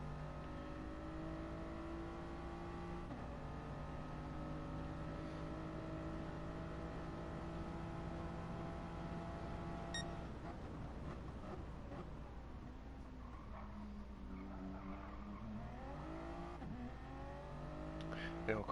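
Race cars lapping a circuit in Gran Turismo Sport during an FIA Manufacturers race, including a McLaren, with sustained engine whine shifting pitch through gear changes and acceleration, a rival car audible near the end.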